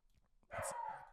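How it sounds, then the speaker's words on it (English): A dog barks once, loud and close, a short harsh bow-wow after a quiet moment with faint low sounds. "Do not know why the dogs I'm dog sitting are popping off right now"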